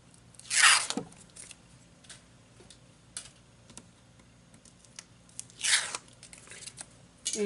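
Score tape is pulled and torn off a roll in two sharp, loud ripping bursts several seconds apart, with faint clicks and paper handling in a quiet room between them.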